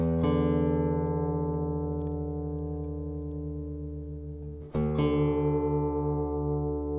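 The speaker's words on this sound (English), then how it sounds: "We're going to take this low E string down a whole step." A guitar's low E string, being tuned down a whole step to drop D, is plucked and rings out with a sustained, steady tone, then plucked again with a slightly lower pitch.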